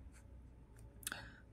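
Pen writing on paper during a Class 10 maths lesson, a faint scratchy stroke with a brief sharper scrape near the end, quiet and close.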